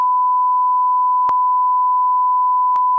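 A steady, loud censor beep holds a single pure tone for about three seconds, with short clicks at the start and twice more partway through, and no talking over it.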